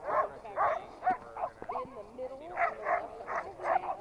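Sled dogs bark and yip in repeated bursts at a dog-sledding site in Alaska, loud and fairly near, with several animals overlapping in an excited chorus while people talk over them.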